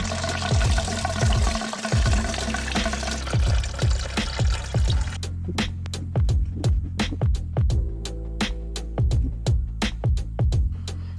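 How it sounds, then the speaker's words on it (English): Coolant drains from a motorbike after a drain screw is undone: a continuous liquid pour at first, then a run of irregular drips and splashes, close and fairly loud, with no talking. "I'm going to undo the screw and allow the coolant to pour out"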